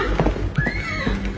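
A large black horse neighs in a sound effect, one loud close whinny arching high then falling away, with low thumps like hoofbeats scattered around it.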